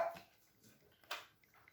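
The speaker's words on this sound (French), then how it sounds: "Notre petit choco qui aboie." Choco, a small pet dog, gives a couple of short, faint barks indoors, separated by near silence.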